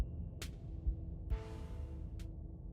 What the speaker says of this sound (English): The sound of distant breaking glass cuts through the silence of the clinic outside the safe room.